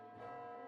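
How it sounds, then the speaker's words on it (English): Bell toll from the video game My Next Life as a Villainess, a single resonant ringing note with rich overtones that swells slightly and sustains briefly, faint and alone. "Suddenly, we hear the sound of a bell and the mellow air vanishes in an instant."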